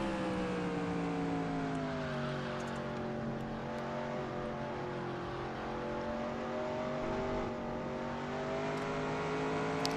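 Stock car V8 engine in NASCAR Racing 2003, a steady loud droning roar held at high revs with slowly shifting pitch as the car runs around the track, other cars faintly near, no talking.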